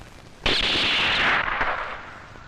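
A gunshot at target practice in the film Gadar 2, one loud close blast with a long ringing decay, then a softer second report.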